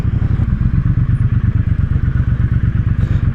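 A 2017 Triumph Bobber motorcycle slows to a stop, its engine chugging loud and close in a steady, rapid low throb with rattly mechanical clatter, without any talk.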